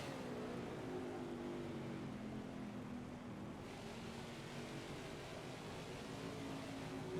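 Race car engine at Dirt Bristol in the NASCAR 21 video game, a steady droning roar that holds constant throughout, with a slight change in pitch midway and no voices.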